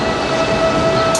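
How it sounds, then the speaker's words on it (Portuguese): An Alfa Pendular train at a Porto station gives off a loud, steady rumble with a sustained tonal whine, continuous and close throughout, no voices heard. "Parte mais um pendular da nova GAR Intermodal"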